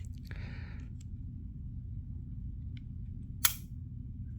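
Dry fire of an unloaded Ruger MAX-9 micro-compact pistol: a short mechanical rattle early on, then one sharp, crisp trigger click, close and isolated over a low steady hum.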